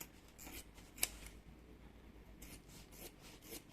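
Scissors trimming excess lining and zipper tape from the corners of a handmade bag, several crisp snips and rubbing cuts spaced across a few seconds, close and fairly quiet, with no talk.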